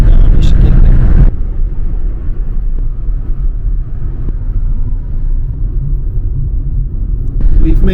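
A car drives toward Alqosh with a steady low rumble from the road and engine inside the cabin, loud at the start and end, with a person speaking over it.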